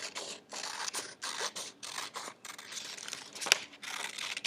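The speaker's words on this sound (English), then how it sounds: "Now we're going to cut this out, okay, the outer edge." Scissors cut around the outer edge of a paper mask in a run of crisp, rasping snips and paper crinkles, close and distinct, separated by brief pauses.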